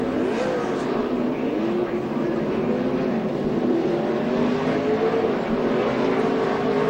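Craftsman Truck Series race trucks, among them a Dodge, roaring around the Martinsville short track during a spin, a loud continuous engine drone with shifting pitch and no pauses.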